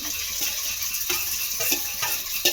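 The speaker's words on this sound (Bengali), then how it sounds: "এবারে ফোড়নটাকে আমি একটু ভেজে নেব।" Cumin seeds tempering in a little hot oil in a pan, a steady close crackling sizzle with scattered sharp pops and occasional stirring scrapes throughout.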